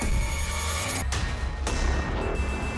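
A mobile phone rings steadily and loudly for about three seconds against a dense, noisy background, with no talking.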